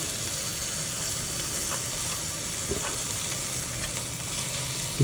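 Meat sizzles steadily on a Rival Crock Grill, a constant bright hiss and crackle with small pops scattered through it, close and unbroken for several seconds with no talking.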